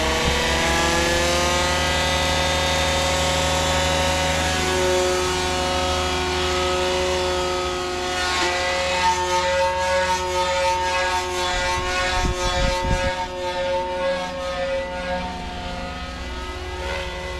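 A Goblin 500 RC helicopter's electric motor spins up with a rising, steady whine that holds strong and close. Its pitch wavers as the rotor loads up toward flight, with a few low thumps near the end and no voices.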